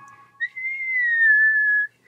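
A single sustained whistle imitating a singer's falsetto, rising and then gliding slowly downward in a clear, steady tone for about a second and a half, alone and close.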